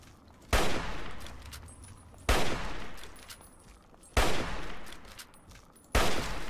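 Gunfire in the Fallout 3 video game: four sharp, loud bursts of shots spaced about two seconds apart, each decaying into a fizzing tail, with a quiet game ambience between them and no talk.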